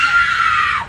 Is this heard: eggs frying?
no